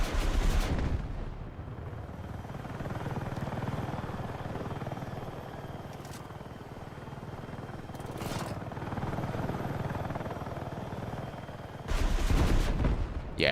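Helicopter rockets firing in Battlefield 6, a dense rumbling barrage of rapid blasts over a steady rotor-like roar, with a loud burst of launches near the end.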